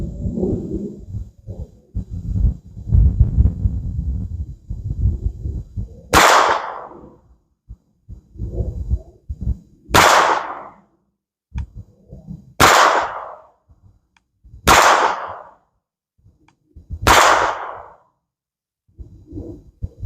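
A SIG P322 .22 pistol fires five sharp, cracking shots at a target at steady spacing, each separated by a quiet pause, with some rustling and handling noise between them.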